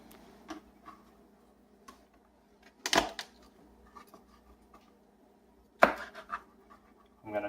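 A knife taps and scrapes against a cutting board while mincing garlic for barbecue sauce, giving a few sparse, sharp chops and light ticking strokes in a quiet kitchen.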